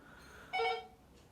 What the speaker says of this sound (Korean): 또 선거한다고 뭐 전화가 오나 봅니다